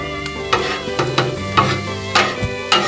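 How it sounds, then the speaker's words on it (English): A spatula scrapes and stirs eggs on a Blackstone griddle at a hunting camp, with sharp scraping strokes about every half second over a steady low background. "we can go ahead and scramble up our eggs for later on"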